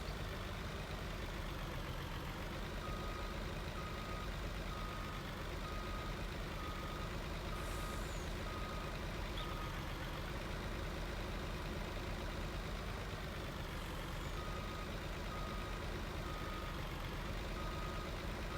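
Truck in Farming Simulator 19 idling and creeping onto a low loader trailer, a low steady engine rumble with intermittent reversing beeps, constant and fairly quiet throughout.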